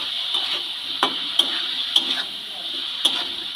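Raw chicken is mixed with turmeric powder in a bowl, close, soft stirring with a few sharp clicks of a utensil against the bowl at irregular intervals over a steady background hiss.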